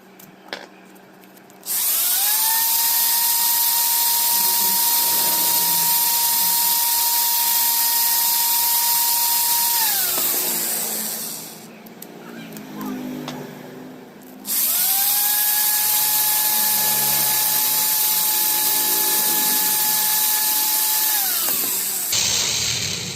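Electric motor whines steadily during two long passes while polishing a mixer grinder motor bush to size, each pass starting and stopping cleanly, with a rattling mechanical break between them.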